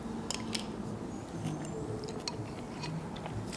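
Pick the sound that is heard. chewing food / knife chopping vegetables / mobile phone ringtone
chewing food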